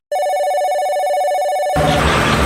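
Telephone ringing with a steady electronic tone that starts abruptly, holds for over a second and a half, then gives way to a burst of broadband noise, with no voices.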